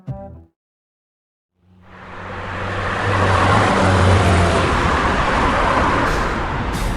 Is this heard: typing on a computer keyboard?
no